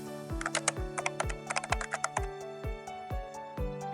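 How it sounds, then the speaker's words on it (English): Rapid, close keystrokes on a computer keyboard as a word is typed into a design app, a brisk run of crisp taps and clacks with no voices. "You can type in the text here. Let's write Smartwatch."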